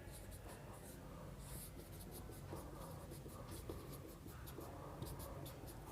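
Pen or chalk scratching across a board or paper during a history lesson, a faint steady run of short scraping strokes with no talk over it.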